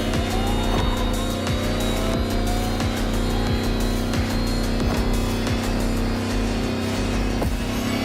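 Lamborghini electric hypercar in The Crew Motorfest, a loud continuous high-pitched electric whine with steadily rising tones as it accelerates, over constant road and wind rush with faint tire noise.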